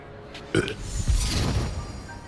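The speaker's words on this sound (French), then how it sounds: "Il a roté." A character in Hogwarts Legacy lets out a single loud, close burp that rumbles for about a second, with no talk over it.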